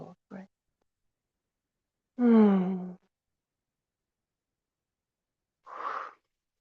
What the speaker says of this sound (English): Enjoying the flow of breath